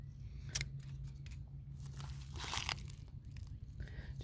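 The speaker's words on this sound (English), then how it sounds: "I'm going to snip a little bit here just above these buds" Pruning shears snip through a hydrangea branch just above the buds, giving a few crisp cuts with some rustling and crinkling of leaves, close and fairly quiet, with no talking.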